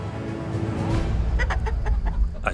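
Chickens kept on a farm cluck and call in a rapid, busy jumble of short notes, fairly close, over a steady low rumbling background.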